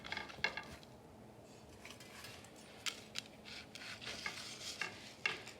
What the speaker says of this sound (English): I'll be picking the patties and putting them in the Instant Pot